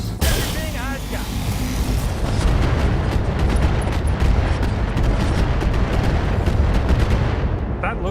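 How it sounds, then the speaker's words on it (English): Weapons in a mech combat game fire in a dense, continuous barrage of booming shots and blasts, loud and close, with rapid repeated impacts layered over a heavy low rumble for the whole stretch. "Firing everything I've got."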